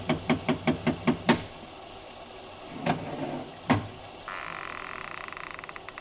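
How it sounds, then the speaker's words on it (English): A bronze idol raps on a door in a quick run of about seven sharp knocks in an old-time radio drama, then two more scattered knocks, followed by a faint buzzing rattle. "I lifted the bronze idol and rapped on the door with it"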